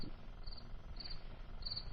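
Cricket chirping as a sound effect, a faint, high, repeated trill in about three short bursts over a low background hiss.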